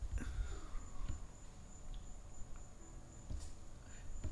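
A cricket chirps steadily late at night, a thin high trill running continuously in the background, faint and distant, with a few soft knocks and rustles nearby.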